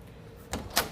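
A door shuts in a home workout space, a soft first knock followed by a sharper, brighter latch click about a quarter second later, close and moderately loud over quiet room tone.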